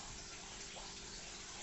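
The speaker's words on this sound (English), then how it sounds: "That's water from the tap." Tap water runs steadily through a hose into an African cichlid fish tank, a continuous soft rushing and splashing with no talk.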